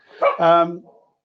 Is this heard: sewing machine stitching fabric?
no